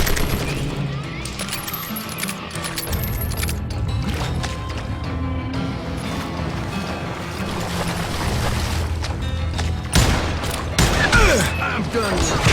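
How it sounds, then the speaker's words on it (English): A fusillade of gunfire in the video game Call of Juarez Gunslinger, with dense overlapping shots and cracks over a rumbling background and a sharper burst toward the end. "a fusillade of bullets come raining down from on high"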